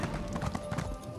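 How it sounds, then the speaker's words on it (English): Horse hooves clip-clop in a steady, fairly close rhythm while riding a horse through Elden Root in Elder Scrolls Online, with a brief whinny-like tone mixed in. "Like I run on top of the horse."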